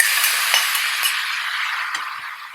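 Apples frying in melted ghee for apple halwa, a steady broadband sizzle running throughout with a few faint clinks of a utensil against the pan, close and fairly loud, no talking.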